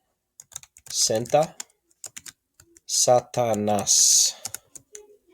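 Fast clicking from a computer keyboard, typed in short bursts between and under spoken Spanish from a nearby voice.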